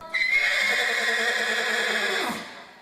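Boss, a therapy horse at Vale Meadows, gives a single loud, sustained whinny of a couple of seconds, close and clear, rising at the start and trailing off abruptly, with no voices.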